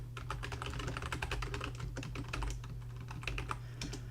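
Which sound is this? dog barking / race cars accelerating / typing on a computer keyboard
typing on a computer keyboard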